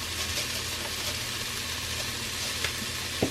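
Food seasoned with pepper and salt sizzling in an open pan, a steady soft hiss of frying that holds evenly at moderate volume, with an occasional faint tap near the end.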